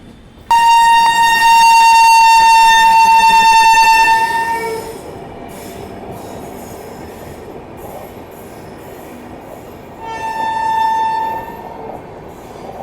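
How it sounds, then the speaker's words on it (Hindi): A passing Bihar Sampark Kranti Express bound for Delhi crossing another train near Darbhanga, a loud sustained horn blast over rumbling wheels, fading to steady rolling noise, then a second shorter horn. "यहाँ पे दरभंगा के पहले अपनी क्रॉसिंग हो रही है दिल्ली को जाने वाली बिहार संपर्क क्रांति एक्सप्रेस से"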